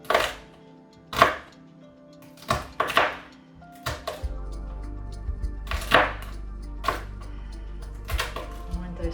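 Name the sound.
chopping vegetables on a slant with a knife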